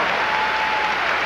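Dense, steady applause from an arena crowd after a women's balance beam routine at the 1987 Olympic Sports Festival gymnastics event finals, a continuous wash of clapping with no breaks and no talking.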